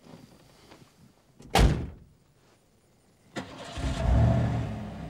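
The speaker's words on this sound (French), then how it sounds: "ferme la porte et démarre" A car door thuds shut, loud and close, then after a short pause the engine cranks and catches into a rising, rumbling idle, with no voices.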